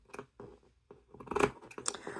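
Scissors snip through the fabric of a dress hem by hand, giving a few short crisp cuts at close range, with faint handling rustles between them.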